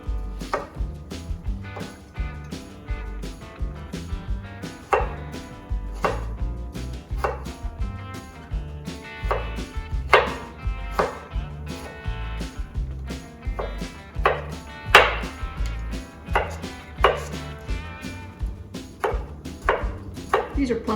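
A knife rough-chops plum tomatoes on a cutting board, making a close, steady run of sharp, crisp chops with short uneven pauses between strokes.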